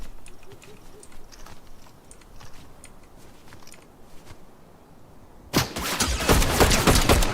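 Fortnite gunfire erupts after a quiet stretch of faint game ambience and footsteps, a loud rapid burst of shots filling the last couple of seconds, with no talking.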